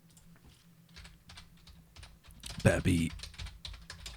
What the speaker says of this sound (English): 8-bit do mechanical keyboard